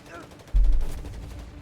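Machine gun and mortar fire in the World War II strategy game Company of Heroes 3: a sudden heavy low boom followed by a rapid rattling burst that fades over a second, loud and close.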